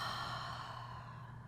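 A long, steady exhale during a yoga flow, broad and breathy, close and fairly loud, continuing evenly to the end with no talk over it.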